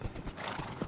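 Horse in the video game Minecraft, with clopping hooves and a clear neigh over a low, busy game background, fairly close and moderately loud.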